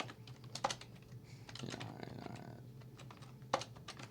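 Keys tap on a computer keyboard as a list is typed into MetaStock 17 software, a steady run of soft, close clicks with a couple of sharper strikes.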